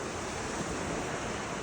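Surf washing onto a seashore, a steady broadband rush with no distinct breaks, mixed with some wind noise and no voices.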